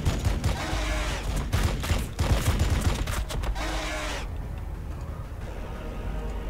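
Rapid volleys of weapons fire from units in the strategy video game Battlesector, loud and dense bursts crackling for about four seconds before fading to a low rumble.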